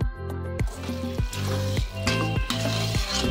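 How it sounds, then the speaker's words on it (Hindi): Black mushrooms cooking with a little added water in a pan, village kitchen in Tripura, give a close, steady sizzle and bubbling punctuated by repeated stirring scrapes at a loose rhythm. "यहाँ पे मेरा ब्लैक मशरूम ऑलमोस्ट कुक हो चुका है"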